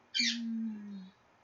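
A pet bird indoors gives a single drawn-out call about a second long, a steady tone with a harsh edge at its start, close and clear against silence.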